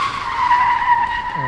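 An aircraft lands in a flight video game, giving a steady, loud engine whine with a sustained skidding squeal, and a brief rising tone near the end.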